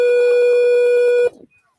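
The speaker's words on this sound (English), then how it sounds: "Sorry if anyone can hear my phone going off." Mobile phone app notification tone for MLB draft alerts, a steady sustained electronic beep with bright harmonics lasting over a second, then cutting off abruptly into faint residue.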